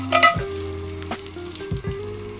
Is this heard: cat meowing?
no